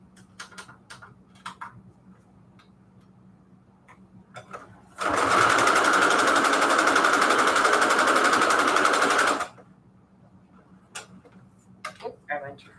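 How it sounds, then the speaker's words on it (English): A sewing machine stitches a zigzag in one loud, steady burst lasting about four seconds, bracketed by quieter clicks and handling taps before and after. "I'm just doing a zigzag stitch."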